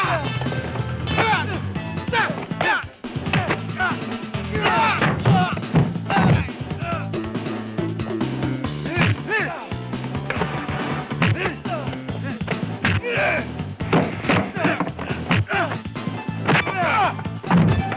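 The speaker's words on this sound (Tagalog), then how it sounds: "Yung bintana, nabasag!" Window glass smashes during a busy action scene in the Filipino film Hawak Ko Buhay Mo, with loud crashing and whacking impacts repeating throughout, mixed with music and voices.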